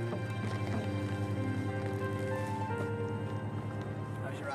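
Horses' hooves clip-clop steadily as a couple rides on horseback to a neighbour's place, a continuous rhythmic trotting under a sustained tonal background.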